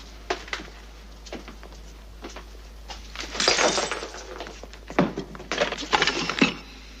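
Glass breaking in a scene from Return of the Saint: scattered sharp clinks and tinkles, then louder crashing shatters with falling shards, close and clear over a low background hum.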